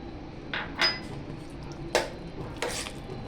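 Grated fresh coconut goes into traditional rice kheer in a metal pan, with a few sharp, close clinks and scrapes of a spoon against the pan at irregular intervals.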